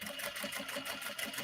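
A sewing machine runs steadily at close range, stitching darts on a clutch purse in a fast, even mechanical whir with a rapid repeating pulse.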